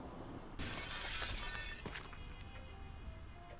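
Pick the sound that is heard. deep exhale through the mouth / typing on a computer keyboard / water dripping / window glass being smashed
window glass being smashed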